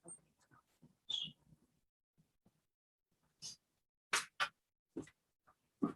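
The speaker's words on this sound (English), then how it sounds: "dogs are down here with me" A dog down in a quiet room with someone leading gentle restorative yoga gives soft, scattered whimpers and little yips, faint and intermittent with silent gaps between.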